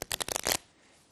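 A deck of playing cards is shuffled during a magic trick: a quick, close run of crisp riffling flutters lasting about half a second, then near silence.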